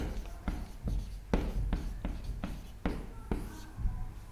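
A lecturer writes on a board during an agronomy class, producing a quick series of scratchy strokes and sharp taps at an irregular rhythm, close and clear.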